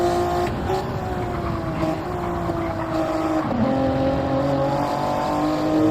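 A pack of Group A race cars drives close together in a racing video game, their engines droning and whining steadily at high revs with shifting pitch throughout.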